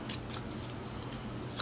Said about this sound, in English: Let's give this a little shuffle